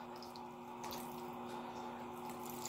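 Vinegar poured into a pot of ginataang tambakol, fish simmering with coconut milk, salt and water, a soft steady trickle of liquid heard close and faint over a low hum.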